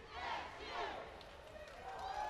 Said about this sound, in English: a very underrated crowd here from the Eastern Michigan Eagles